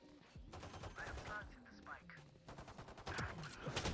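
Rapid SMG gunfire bursts in Valorant, a clattering run of close shots rising toward the end, with voices talking over it.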